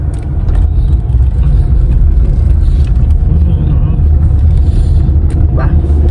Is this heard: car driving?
yes